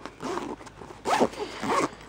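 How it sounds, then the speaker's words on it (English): Three quick zipper pulls close a Vivitar Rugged Series SLR camera holster case, each a short rasping zip, close and crisp with brief pauses between. "So let me just quickly zip up this bag."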